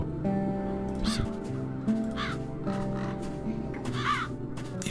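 Crows caw in The Dark Eye: Chains of Satinav, three loud harsh calls at roughly one-second intervals over a steady droning game music bed.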